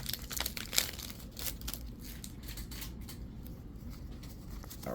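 Powerline Ultra trading card packs being torn open, with close, crisp foil crinkling and ripping in quick irregular bursts of rustle and tearing and no talking.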